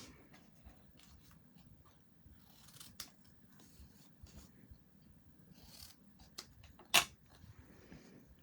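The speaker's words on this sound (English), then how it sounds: "I'm going to cut this one in an angle" Scissors cutting card at an angle, a few soft separate snips and rasps near the microphone in a quiet room, with one sharper cut standing out toward the end.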